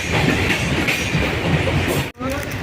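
A passenger train between Sasan and Bagdehi rumbles steadily along the rails, a dense close roar with faint rhythmic clatter, broken by a sudden brief dropout near the end.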